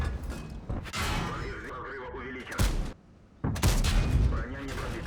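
A tank cannon fires in World of Tanks, its sharp booms breaking up a busy gameplay mix while someone talks over most of it.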